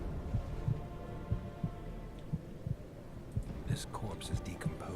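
Steady heartbeat ambience in The Witcher 2, a soft low double thump repeating about every half second under a faint hum, with some quiet rustling and light clicks near the end; no talking.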